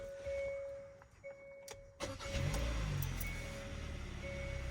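A 2023 Hyundai Santa Cruz engine cranks and catches after a few electronic chimes, then settles into a steady low idle rumble that continues with chimes repeating faintly over it.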